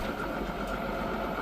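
A tractor engine idles steadily and close by during barley baling, with a constant mid-pitched rumble and vibration and no talk.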